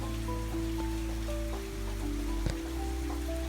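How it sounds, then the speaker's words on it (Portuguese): Soft, steady rain falls outside a cozy winter room, a continuous gentle wash of drops with faint tonal hum underneath and a single brief tap midway, no voices present. "O som da chuva lá fora continua suave, constante, como se o tempo tivesse desacelerado só para você."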